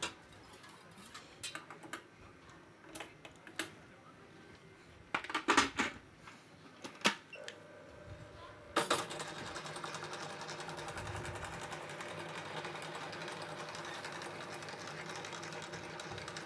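An electric mixer whips egg whites with a little sugar for macarons. A few clicks and knocks come first, then a steady, moderately loud motor whir runs continuously with no talking.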